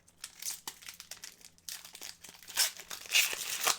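Hockey trading card packs being torn open, a close run of crinkly foil rips and crackling bursts that grow louder and denser toward the end.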